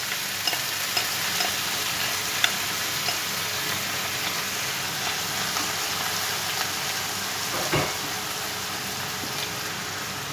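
Thawed morel mushrooms and all their juice frying in a pan for a chicken breast and morel sauce, giving a steady, dense sizzle with faint stirring scrapes throughout and no talk.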